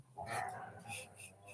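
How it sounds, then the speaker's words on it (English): A pet dog barks a couple of times at a distance behind someone talking, short muffled yaps. "I hear my dog in the background"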